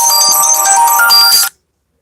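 A mobile phone plays a loud, bright electronic ringtone melody nearby for about a second and a half, then cuts off abruptly into silence.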